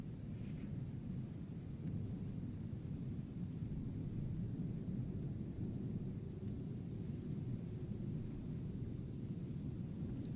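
A thunderstorm with rain rumbles steadily in the video game Icarus, a continuous low roar of heavy weather with a dull, even hiss and no clear separate thunderclaps.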